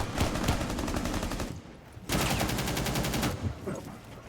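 Rapid automatic gunfire from Ying's weapon in Rainbow Six Siege, two sustained bursts of fast, evenly spaced shots split by a short pause, loud and close.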